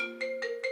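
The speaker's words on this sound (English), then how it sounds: "Clive rang." A phone ringing with an incoming call: a steady electronic tone pulsing in short repeated bursts, close and clear, with no one talking.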